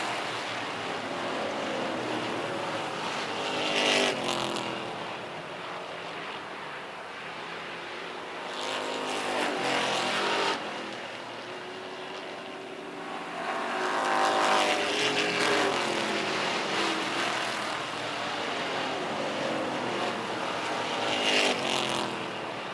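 Race cars in a wheel-to-wheel battle for position, engines swelling loudly as packs pass close by in waves, then easing back to a steady roar between passes.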